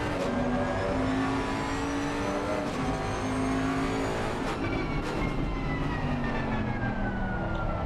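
Bentley Continental GT3 race car engine at Valencia in a racing sim, a loud continuous high whine that holds and shifts pitch through gear changes, steady throughout with no talking.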